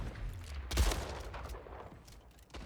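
Gunfire in the video game Splitgate: a dense burst of rapid shots builds early and trails off, followed by scattered fainter reports over a steady game background.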